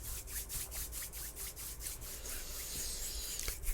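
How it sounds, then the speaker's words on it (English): Slow rhythmic rubbing of palms together, soft close strokes repeating about twice per second, quiet and intimate with no speech. "I'm gonna rub it into my hands really good"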